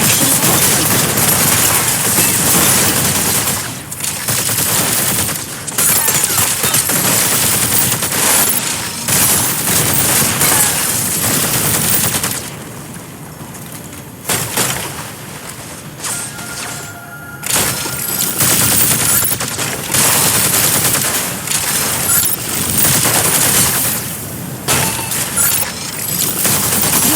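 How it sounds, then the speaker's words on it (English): Energy autocannon in the mech game Mecha Break firing in dense rapid bursts, loud sharp blasts with crackling impacts, a short lull midway, then the barrage resumes. "Attack with energy autocannon."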